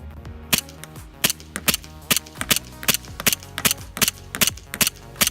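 Airsoft pistols, 1911s and a Beretta, fire in a rapid string of sharp, loud snapping shots at an outdoor 75-foot range, about a dozen cracks in uneven quick succession with no talking.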